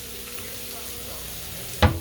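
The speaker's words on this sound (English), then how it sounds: "My bacon is almost done." Bacon fries in a pan with a steady, close sizzle, then a short louder clatter or spatter at the very end.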